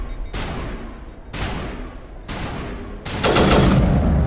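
Rapid automatic sniper rifle fire in Mass Effect Legendary, four loud bursts of shots with sharp onsets, the last one louder and denser, with no talking.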